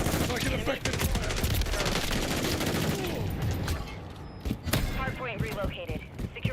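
Dense automatic gunfire and rapid shots in a Call of Duty: Modern Warfare III multiplayer match on the Tokyo map, loud and sustained at first, then thinning to scattered bursts with game voice callouts.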